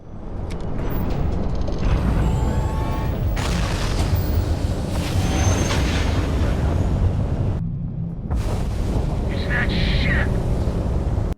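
Ship weapons on a Firespray Gunship fire during space combat in the game Starfield, with loud, dense booming bursts and explosions that run almost continuously and drop out briefly near the end.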